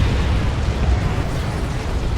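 A tank explodes in the video game Dawn of War 2, heard as a broad, dense roar of blast and rumble that holds steady for its whole length without a sharp onset.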